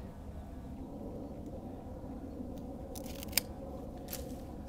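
Pruning shears snip through a rose cane near the ground, giving a few short, sharp clicks and snaps close by over a low, steady outdoor rumble.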